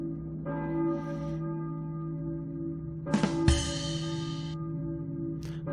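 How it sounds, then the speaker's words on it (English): A church bell rings in the Silent Hill PlayStation 1 game, sustained tolling tones hanging over a steady low drone with a brighter metallic strike around the middle, fairly quiet and alone. "I hear a... church bell, I think. But who's ringing it?"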